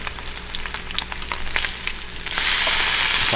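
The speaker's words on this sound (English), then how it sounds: "The fun thing about cooking bacon on the stove, it takes very fast." Bacon fries in a pan on a stovetop, a steady close crackle and spitting sizzle that swells to a louder, denser hiss partway through.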